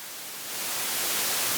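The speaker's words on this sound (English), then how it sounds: "It's a very full frequency white noise" Full-spectrum white noise from an Erica Synths Modulator Eurorack module with a zener diode noise source, a steady loud hiss that swells slightly at the start and then holds even.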